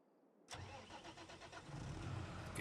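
A tractor engine in Farming Simulator 22 cranks and catches abruptly, then settles into a steady rumbling idle that grows slightly fuller, heard up close with no talking.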